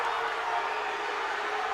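A dense, steady roar of a crowd at a boys high school basketball game, reacting to a charge call against a player. The noise is broad and sustained for the whole stretch, with no single voice standing out.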